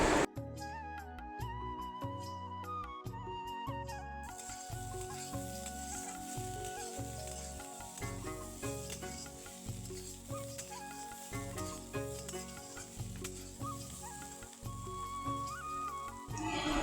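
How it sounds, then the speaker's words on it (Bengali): Potatoes and broad beans frying in a pan in a home kitchen, a steady sizzle running the whole time alongside clattering and tapping, with no one talking. "ওদিকে আলু আর বটবটিগুলোকে ভাজা বসিয়ে দিয়েছি"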